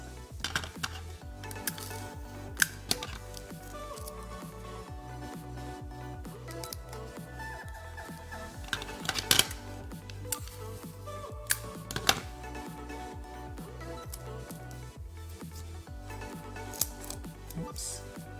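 Scissors snipping through excess tape on a card, repeated crisp cuts in an irregular rhythm, close and fairly loud over a steady background.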